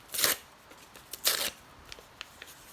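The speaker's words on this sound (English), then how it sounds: "And you can rip it however you want." Construction paper being ripped by hand, two distinct tearing bursts a second apart followed by a few faint small rustles, close and fairly quiet with no voice over it.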